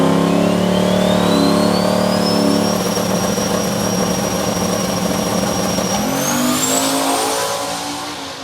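A Buick drag race car makes a test pass, its engine roaring loud and close with steady revving harmonics that climb, hold, then jump with a shift near the end before the sound begins to fade.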